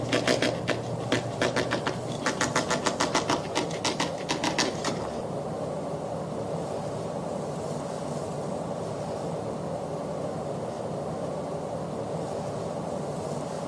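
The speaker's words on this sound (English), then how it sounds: "Presses are rolling." Printing presses roll in The Longest Journey game, a fast mechanical clatter of rapid repeated strikes for about five seconds over a steady low machine rumble that carries on alone afterward.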